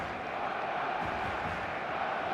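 Football stadium crowd at a Real Madrid vs Liverpool Champions League match, a broad steady roar of many voices with low rumbling murmur, distant and continuous without distinct chants.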